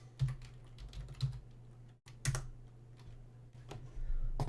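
Keystrokes on a computer keyboard with a faulty R key clatter in short bursts of clicks, with a brief silent gap partway through and denser typing near the end; no one talks.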